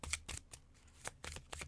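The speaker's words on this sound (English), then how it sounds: "I'm really struggling here to shuffle them" Slippery tarot cards shuffled on a table, with several quick riffling bursts of soft slapping and fluttering separated by short pauses, close and fairly quiet.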